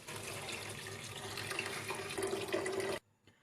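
Chicken stock (yakhni) pours into a soup pot for chicken corn soup in a steady, close, splashing stream that runs for about three seconds and then stops abruptly, with no voices.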